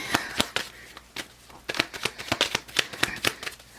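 Tarot cards shuffled by hand in a run of crisp riffling snaps and flutters, quick and irregular, close and fairly soft, with no voices.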